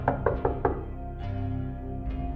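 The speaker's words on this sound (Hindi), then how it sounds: "कोई दरवाजे को खटखटा रहा है" Four sharp knocks on a wooden door in quick succession, close and fairly loud, followed by a low ambient hum in a quiet night-time village house.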